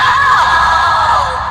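A loud, sustained scream for a horror story, about a second and a half long and steady, with no other sound.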